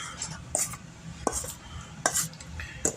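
Black pepper being stirred into a chicken dish in a pot, with a spoon scraping and clinking against the metal in a few sharp knocks over a soft steady stir, close and fairly quiet.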